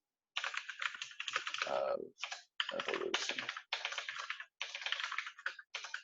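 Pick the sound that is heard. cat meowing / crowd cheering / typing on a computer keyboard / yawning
typing on a computer keyboard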